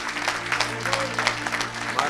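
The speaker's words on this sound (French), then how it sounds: "Acclame." A church congregation claps and cheers at a French-speaking evangelist's service, steady dense applause filling the room with a low hum beneath and a voice speaking over it.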